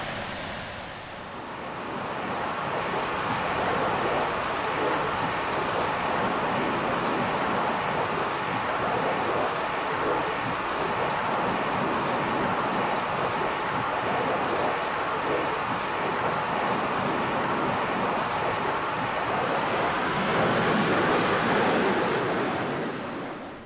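Jet engine of a Just Flight BAE Hawk trainer in X-Plane 11 holds a steady, loud broadband roar with a high whine, rising in pitch near the end.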